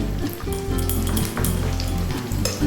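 Food sizzles and crackles steadily in hot oil in a pan, a close, continuous frying hiss with a low hum underneath.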